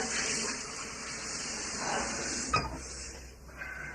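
Water gushes steadily from a tap as someone washes up in a bathroom, a continuous hiss with a brief knock or bump partway through.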